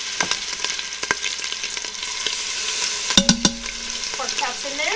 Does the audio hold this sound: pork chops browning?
yes